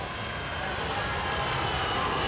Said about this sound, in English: The huge jet rumbles overhead